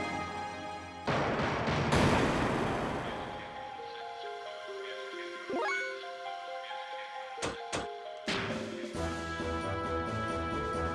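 A fire attack cast underwater in the video game Xenogears, heard as a sequence of synthesized battle effects with a burst, sweeping tones and sharp cracking hits over game music.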